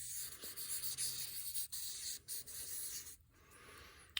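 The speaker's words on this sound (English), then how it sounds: "So this is a really thick marker. So I'm going to make some kind of graffiti kinds of marks" A thick marker squeaks and rubs across paper as graffiti-style marks are drawn, with a steady scratchy texture broken by brief lifts and pauses, close and fairly quiet.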